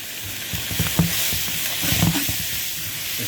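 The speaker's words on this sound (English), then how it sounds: "I'm just going to add my" Sausage fries in a pan with aromatics, giving a close, continuous sizzle with bursts of crackling and spattering, plus a few stirring knocks, heard alone without speech.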